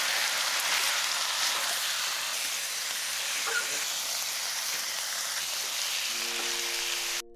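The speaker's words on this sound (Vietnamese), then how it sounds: "Và bây giờ mình cho vào chảo và xào với hành tây luôn." Pork liver and onion stir-fry in a pan over low heat, giving a steady, dense sizzle and hiss that holds at an even level for several seconds.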